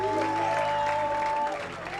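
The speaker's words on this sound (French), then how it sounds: "Acclame encore le Seigneur, s'il te plaît. Non, acclame réellement." A church congregation applauds and cheers for the Lord during a sermon, a brief burst of crowd clapping and voices filling the room before it begins to fade.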